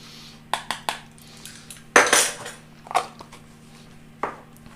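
Metal spoon knocking and scraping against a bowl while stirring ground spice into bread pudding, a handful of sharp clinks spread out with one louder scrape midway, close and alone without talk.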